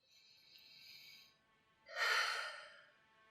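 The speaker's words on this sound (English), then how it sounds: "Take one more nice deep breath" A slow, deep breath during a calm yoga cool-down, with a soft inhale followed by a fuller, louder exhale, close and alone without speech.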